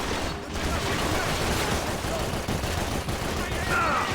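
Constant gunfire in the video game Max Payne 3, dense bursts of shots and rattling fire running without pause throughout.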